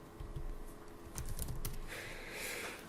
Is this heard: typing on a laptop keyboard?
yes